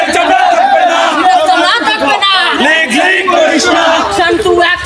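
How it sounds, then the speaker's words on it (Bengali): A large student protest march with a dense crowd shouting and chanting loudly and continuously, raised voices overlapping throughout at close range. "ছাত্রদের জন্য বিরাট এক মিছিল চলতেছে"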